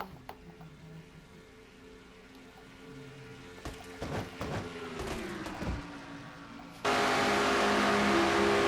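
Race cars in an NNSCRA Castrol GTX Cup Winston All Star race roar past one after another. Engines rise and fall as they sweep by, ending in a loud, sustained burst of engine noise.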